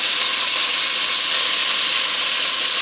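Pork browning in a hot pan for a tomatillo stew, a loud, steady, dense sizzle close up with no break and no voices.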